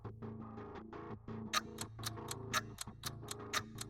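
Clock ticking at midnight in a Hindi cartoon story, a steady run of sharp, bright ticks, about four per second, over a continuous background music bed.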